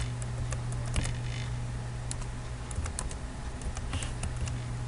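Rapid, uneven clicks of a computer keyboard as an IP address is typed while setting up a standard TCP/IP port for a Toshiba photocopier. Close and fairly crisp over a steady low hum, with no talk.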